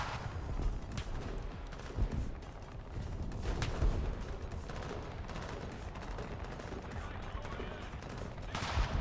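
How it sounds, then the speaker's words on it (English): Video game gunfire from War Thunder, with soldiers shooting in continuous bursts of rattling shots over a dense battle din, fairly loud and steady throughout, with some speech mixed in. "My guys are shooting at each other"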